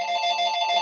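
A telephone rings steadily during a group meeting, its bright electronic tone sounding continuously and fairly close, with no talking over it.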